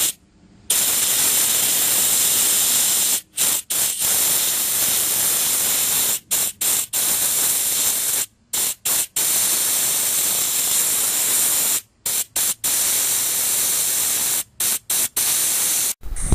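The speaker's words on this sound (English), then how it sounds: "You need to release the nitrogen charge." Nitrogen charge released from a Gree air conditioner indoor unit's evaporator piping, a loud, harsh continuous hiss broken by repeated abrupt stops and restarts.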